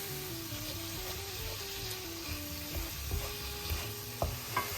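Ground beef frying in a pan while being stirred for a beef pasty filling, a steady close sizzle with scraping stirs and soft clicks of the utensil against the pan, growing busier toward the end.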